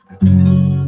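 A single strummed guitar chord in drop D tuning rings out loud and close, the unfretted low E string buzzing deep and slightly muddy underneath before it starts to fade.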